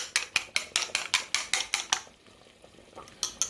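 An egg is beaten briskly in a bowl with cornstarch for a chicken vegetable soup, a fast run of sharp clinking strokes close up, then a short pause before the beating resumes.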